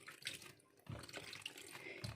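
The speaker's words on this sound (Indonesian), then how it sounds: "ini terongnya akan kita cuci" Eggplant being washed by hand in a sink or basin of water, faint splashing and sloshing in quiet bursts, with a stronger swish of water starting about a second in.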